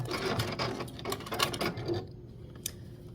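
A sewing machine runs steadily while stitching the binding onto a vintage quilt table runner, a continuous close mechanical whir with rapid needle ticks that drops away near the end, leaving a brief faint click.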